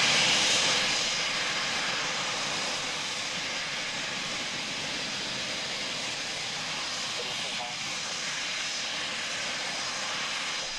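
Aircraft on the runway at RAF Coningsby, a loud sustained engine roar that rises at the start and then holds as a steady, broad drone for several seconds.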